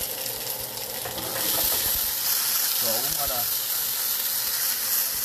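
Potatoes sauté and steam in a skillet, a steady broad sizzle and hiss that swells after the first second and runs loud and close throughout, while someone talks briefly over it.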